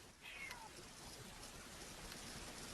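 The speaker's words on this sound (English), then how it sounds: "I heard a cat." A cat meows once during an online woodworking class, a short rising-and-falling call up front over a steady hiss of background noise, moderately faint and alone.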